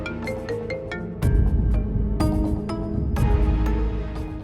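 A mobile phone ringing with an incoming call, a repeating melodic ringtone that plays close and loud throughout, growing fuller partway through, with no talking over it.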